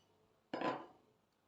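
Three room-temperature eggs cracked into a mixing bowl for a strawberry cream cake, heard as one sharp clink and crack followed by a short fading spill, close and clear in a quiet kitchen.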